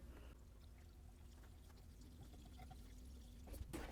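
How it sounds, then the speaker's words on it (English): Coolant pours into the radiator of an abandoned Mustang in a steady, faint liquid stream that continues without break, ending with a couple of small clinks. "So I'm gonna start putting some coolant into this radiator."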